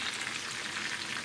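Kashmiri chapli kebabs frying on a low flame give off a steady, even sizzle of hot oil that holds at one level throughout, close and alone with no talk.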